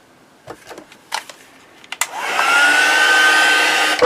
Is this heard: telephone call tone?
no